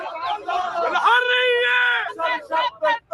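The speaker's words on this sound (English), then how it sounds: "Celebrations erupt at this airport in Beirut as crowds hail the arrival of pro-Palestinian militant George Abdallah" Crowd at Beirut airport cheering the arrival of pro-Palestinian militant George Abdallah, with loud sustained voices, whoops and yells rising into a swelling cheer, then several short bursts of shouting.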